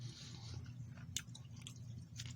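Someone chewing pineapple nougat from a 24-hour ration pack, close soft mastication with a few sharp crunchy bites over a low steady hum.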